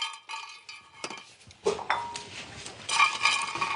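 Cinnamon sticks dropped into a dry pan for roasting, with light clinks and knocks of the spice and utensil against the metal, a brief louder clatter midway and more scraping at the end.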